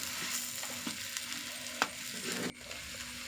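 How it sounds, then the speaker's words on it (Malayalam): Beef curry simmering in a pan with home-ground curry masala and pepper is stirred, giving a steady sizzle under scraping spoon strokes and one sharper knock near the end. "എല്ലാം കൂടി ഒന്ന് ഇളക്കി കൊടുക്കണം"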